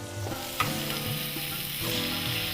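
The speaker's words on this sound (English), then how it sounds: "once you've sealed the meat and you've given that a stir in the pan" Meat searing in a hot frying pan as it is stirred, with constant loud sizzling and occasional scrapes and knocks of the spoon against the pan, close by, no talking.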